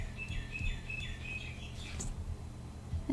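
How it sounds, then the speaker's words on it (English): A family of wild birds with babies chirps busily outdoors, repeated high tweets and short calls in quick bursts over steady low background noise, moderately close. "Those birds are going nuts."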